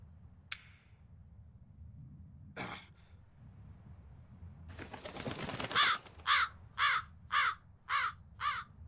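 A crow in the video game Tales of Berseria caws after a brief rustle and flapping, letting out a quick series of five or six loud, evenly spaced, harsh calls.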